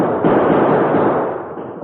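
Gunfire in an old western radio drama, with revolvers fired during a shootout in a town street. A dense, steady barrage of shots and whining bullets runs loud and close for the whole moment.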